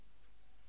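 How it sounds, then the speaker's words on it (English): A wristwatch alarm goes off in a room, thin high electronic beeps in short repeated bursts, faint and distant against a steady background hiss. "my watch alarm's going off over there"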